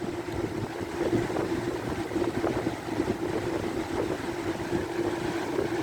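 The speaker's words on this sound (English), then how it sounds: "we're spinning the Lakewood behind me" A Lakewood box fan spins close by, giving off a steady, even whoosh of moving air with a faint hum underneath and no pauses.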